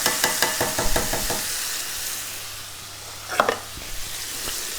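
Beef, peppers and canned tomatoes stirred in a frying pan, with a spoon scraping in a quick rhythm over a steady sizzle that fades, then a few clinks near the end.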